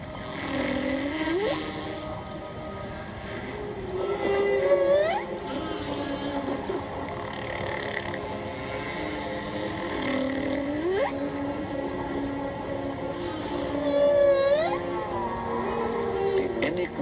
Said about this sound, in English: The voices of whales and dolphins have captured our imagination for centuries.